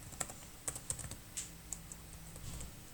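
A computer keyboard is typed on at close range in a quiet room, with a string of crisp, irregular key clicks that are soft and sparse.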